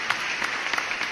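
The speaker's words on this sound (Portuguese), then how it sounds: "Palmas para você." Short burst of applause in a math class video, steady and moderately loud for about a second, with no voices over it.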